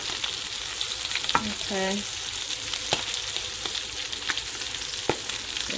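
A honey glaze for salmon sizzles steadily in a pan, with close crackling and a few sharp pops and clinks; a voice speaks one brief word over it.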